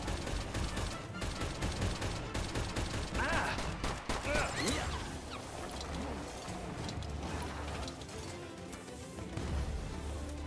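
Turrets firing in the video game Palworld, a steady run of rapid mechanical gunfire rattling through a busy, dense mix with occasional louder bursts.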